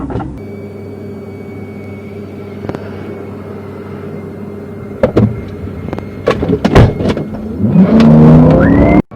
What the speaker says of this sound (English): The Nissan suddenly sped off